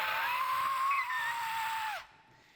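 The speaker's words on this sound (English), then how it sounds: "She's screaming." A young girl screams in a sustained, piercing, high wail during a panic attack in her bedroom at night, loud and close, before it cuts off abruptly.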